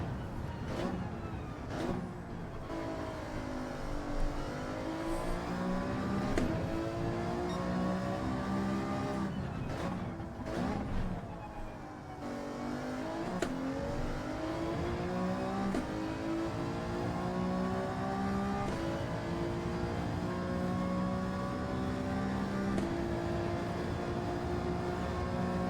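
Race car engines accelerate in Gran Turismo 7 during a Le Mans race with the Alfa 155 2.5 V6 TI '93, a continuous loud V6 whine that keeps sweeping up through the gears, with other cars droning nearby.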